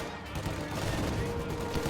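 Video game battle gunfire with Soviet and German forces, snipers, tanks and team weapons, heard as a dense, continuous crackle of distant shots and bursts at moderate level, with faint voice-like sounds mixed in.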